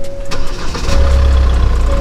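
A 2018 Hyundai Santa Fe CRDi diesel engine is restarted, a low rumbling catch that settles into a steady, loud idle with a faint whine above it.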